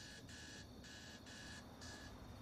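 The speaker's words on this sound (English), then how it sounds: "there goes my alarm." An alarm clock goes off with repeated high electronic beeps in an even on-off rhythm, faint under a steady low background hum.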